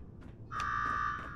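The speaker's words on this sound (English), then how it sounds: "Now go shut off that damn alarm" An alarm blares in Fallout 4 at Nuka World, a loud sustained electronic tone kicking in partway through and holding steady over low background rumble, with no speech.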